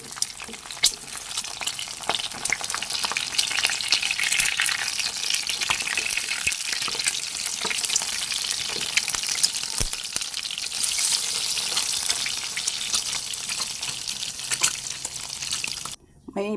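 A sunny side up egg frying in a pan gives a dense, steady sizzle and crackle that is loud and close. It continues unbroken for most of the stretch.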